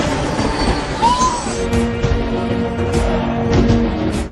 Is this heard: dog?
no